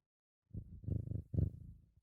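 A cat purring close by, a soft rhythmic rumble in two short bursts after a brief silence, faint and alone.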